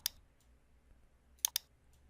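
Computer mouse clicks in a quiet room, a single click at the start and a quick double click later, light and close.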